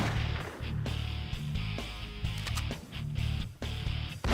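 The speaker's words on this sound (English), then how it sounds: "Shotgun." A shotgun fires in a video game: several loud, booming blasts land at irregular intervals over a dense, continuous backdrop of game noise.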